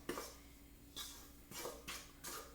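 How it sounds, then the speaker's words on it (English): Bagel dough made with Greek yogurt is mixed in a bowl, giving four quiet, evenly spaced scraping and knocking sounds of a utensil against the bowl. "I'm going to mix it up there."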